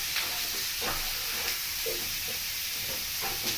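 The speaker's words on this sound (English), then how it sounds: "I've got the potatoes in the pan" Potatoes crowded in a pan sizzle and fry with a steady, loud hiss, with a few faint clinks of stirring in a cabin kitchen.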